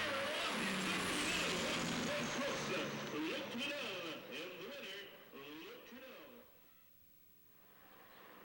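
A Peterbilt truck pulls away at a 1997 truck rodeo, its engine note rising and shifting under loud announcer talk, with a hiss like an air brake release early on and the rumble fading toward the end.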